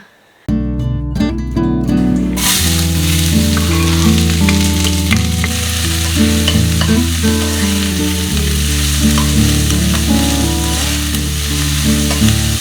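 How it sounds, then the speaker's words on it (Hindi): Cumin seeds sizzle loudly and continuously in hot mustard oil right up close, with music playing over the frying throughout. "तो तड़का बहुत सिंपल तेल का लगाया है मैंने, सरसों का तेल डाला, जीरा डाला"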